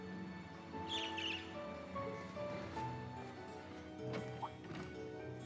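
A bird in the Trails of Cold Steel video game gives a few faint, brief chirps early on, set quietly over a soft ambient music bed with a later short tonal call.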